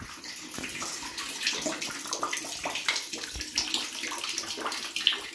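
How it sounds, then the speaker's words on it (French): Water draining from freshly cut plumbing pipes into a bucket, a steady splashing, trickling pour that stays close and fairly even throughout. "Je vais attendre que tout s'égoutte dans le seau."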